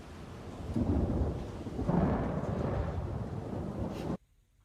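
Thunderstorm scene from the TV series Dark: a deep rolling rumble of thunder over steady rain, swelling midway and then cutting abruptly to near silence.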